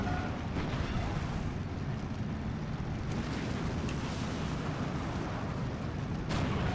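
A bazooka fires on a half-track during a battle in the Steel Division II strategy game, with rumbling explosions and artillery booms continuing steadily under a faint voice.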